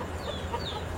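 KUB chickens cluck softly in a coop, brief calls sitting over a steady low background hum.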